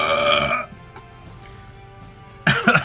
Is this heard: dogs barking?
no